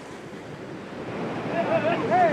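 Mediterranean sea waves where an ambassador swims: a steady wash of surf and wind that grows louder toward the end, with faint distant voices underneath.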